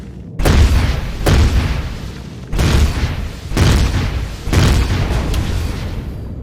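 Gunfire at structures in the Empyrion space survival game: four heavy, booming shots spaced about a second apart, each a sharp loud blast followed by a rumbling decay, with no talk over them.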